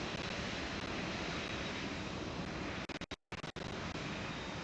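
A large airplane rolls out after landing in the video game PTFS, with a loud continuous roar that briefly cuts out and then resumes.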